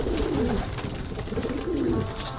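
Several racing pigeons coo in a loft, low throaty rolling calls rising and falling continuously, fairly close, with no talk.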